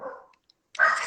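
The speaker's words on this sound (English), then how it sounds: "My beloved dogs." Pet dogs barking indoors: a short bark or whine at the start, a brief pause, then a louder, fuller burst of barking nearby.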